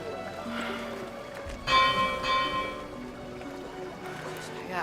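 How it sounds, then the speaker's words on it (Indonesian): A school bell rings out with clear repeated tones near the start of a school day, sounding moderately loud over background voices and ambient noise. "Ya, Bel lagi."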